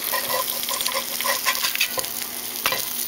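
Eggs over easy fry in a cast iron skillet with a steady close sizzle and crackle, broken by soft scraping taps of a spatula against the pan.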